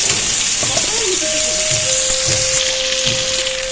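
Crushed garlic and onion fry in hot oil with a steady, loud sizzle and occasional stirring, while a faint tone runs beneath and a voice speaks softly.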